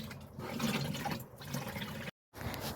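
Water pours steadily into a watering can for a garden blueberry plant, a continuous close rushing fill that stops abruptly near the end, then resumes briefly.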